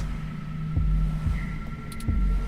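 Low thudding heartbeat effect from the video game 2064: Read Only Memories, a few deep pulses over a steady electronic hum.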